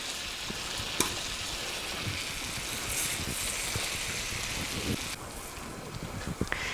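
Butter bubbles and sizzles steadily in a pan as turkey schnitzel fries, a continuous crackling hiss with a few sharper pops and clicks, and no talking.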